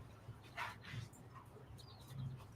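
A dog whimpers and yips softly in a few brief bursts, fairly quiet against a low background hum, with no talking.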